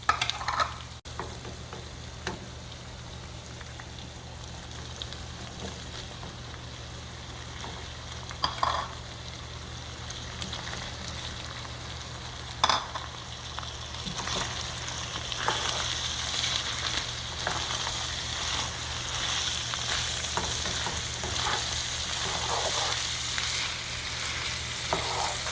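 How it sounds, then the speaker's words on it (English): Meat with mixed vegetables and olives fries in a pan for a Mexican-style turkey stuffing, a long continuous sizzle with occasional utensil clicks, growing louder and more intense toward the end, no talking. "I let the meat fry for 5 minutes"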